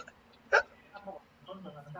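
A single sharp hiccup sounds up close, with a person speaking quietly before and after it.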